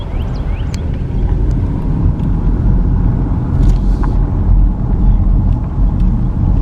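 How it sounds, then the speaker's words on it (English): Car driving through a small, run-down Mississippi town toward a highway, a steady low engine and road rumble heard from inside the vehicle, continuous with no talking. "as I drive to Charlie Pride Highway"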